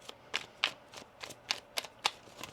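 Tarot cards being shuffled close up: a quick run of about eight crisp riffling snaps in an uneven rhythm, quiet and alone.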